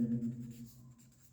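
Pen strokes scratch across paper in a classroom, a brief stretch of writing sounds heard up close and fairly faint, with no talking during it.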